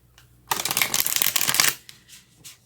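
A deck of tarot cards is riffle-shuffled close by, a dense papery flutter lasting just over a second, then a few softer taps and slides as the cards settle.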